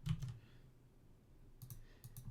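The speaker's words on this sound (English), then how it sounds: "Just waiting for more typing." A computer keyboard clicks in two short bursts of quick keystrokes separated by a quiet pause, faint and with no one talking.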